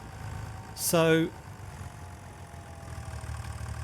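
A John Deere 3650 tractor idles in Farming Simulator 25 with a steady, low rumbling drone throughout, while someone briefly says a word partway through.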